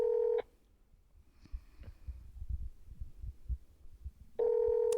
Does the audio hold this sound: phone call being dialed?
yes